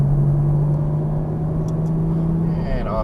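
Exotic sports car accelerating on a Las Vegas race track, a steady droning engine tone heard from inside the cabin, loud and close, with a person speaking over it.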